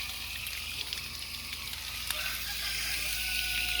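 A propane camping stove burning steadily outdoors, giving a low constant roar with a hissing sizzle over it that holds even and close throughout.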